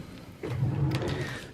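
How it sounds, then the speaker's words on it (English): Drawers of a nursery changing unit slide open with a short, soft rumbling scrape, close and alone in a quiet room. "When I open them drawers"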